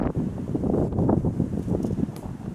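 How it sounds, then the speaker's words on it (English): Wind gusts across a mountainside, buffeting and rumbling steadily against the microphone with fluctuating low roaring and faint rustle throughout. "from the wind is moving now"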